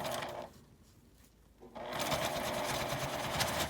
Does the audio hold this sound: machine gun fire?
no